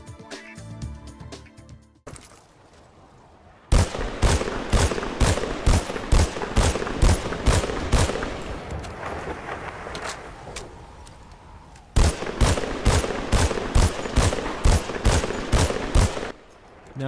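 Rapid, loud bursts of M14 EBR rifle fire in a video game, with two long strings of evenly spaced shots separated by a short pause and followed by brief quieter gaps.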